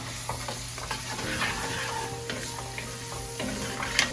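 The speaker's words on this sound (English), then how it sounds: "we're going to add the carrots and the celery because they take the longest, I think, to cook" Carrots and celery going into a pot of tortellini and vegetable soup and being stirred, a steady soft scraping and clatter of spoon and vegetables with a faint sizzle underneath.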